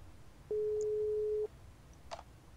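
A telephone busy signal in a video game: a single steady tone lasting about a second, followed by a faint brief click, no talk.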